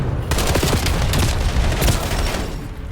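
Rapid video game gunfire rattles in dense, loud bursts of overlapping shots and booms, continuous through the moment with no voices.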